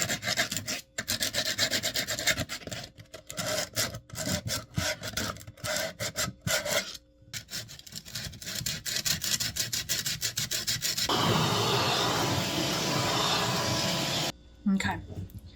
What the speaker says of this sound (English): I'm gonna try and sand out the green gook